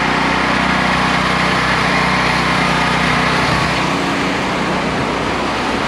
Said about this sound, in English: We got our generator hooked up.